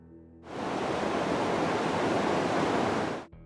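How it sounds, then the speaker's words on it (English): Broad rushing water of the Congo River fills the space for about three seconds, a loud, even, surf-like wash that starts and stops abruptly. "The Congo River."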